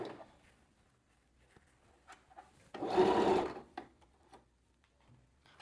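A sewing machine runs one short, close burst of stitching through gathered fabric, a buzzing rattle lasting under a second, with soft handling taps and quiet room sounds before and after.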